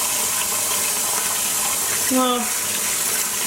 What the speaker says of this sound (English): I am going to now go into my mode of a lot of soaks and rinses and washes